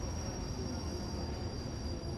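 A train running on a railway, a steady, loud rumble of wheels on track with a high sustained squeal riding over it, continuous with no breaks and no voices.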